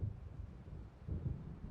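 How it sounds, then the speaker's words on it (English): Low, distant rumbling of an approaching thunderstorm in the video game Alan Wake Remastered, a faint, steady roll of thunder with a soft swell partway through and no voices. "It seems there's a storm coming."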